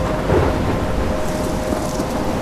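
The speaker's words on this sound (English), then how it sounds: "I'm trapped in a storm?" Stormy weather in the video game Life is Strange, with a steady roar of rain and rumbling thunder filling the whole stretch at an even, loud level, no voices present.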